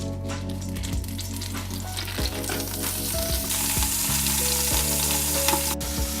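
Fresh ground venison sizzles and fries in a hot pot, a steady crackling hiss up close with occasional stirring scrapes and clinks, no voices.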